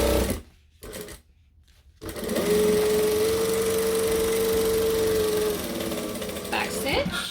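A sewing machine stitches and back stitches through vinyl fabric for an overnight bag. A few handling noises come first, then a loud, steady motor whine with a rapid needle chatter that runs for several seconds before slowing to a stop.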